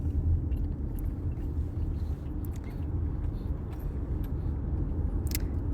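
Steady low road rumble from inside a moving car carrying a family and their dog, a continuous engine and tyre drone with no talk.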